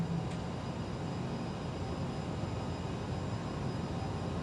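Aerosoft CRJ-700ER jet engines in MSFS 2020 power up for taxi, producing a steady, even whine and rumble that holds at a moderate level throughout, with no voices.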